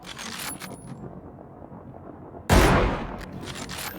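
PUBG gunfire: faint distant crackle early on, then one loud close shot strikes sharply midway and rings out as it decays.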